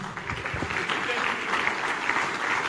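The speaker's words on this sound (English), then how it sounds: "Dr. Peter Obi, please keep clapping, keep clapping" Dense applause from a large audience welcoming Peter Obi at a political event, steady and sustained, with a voice speaking over the clapping.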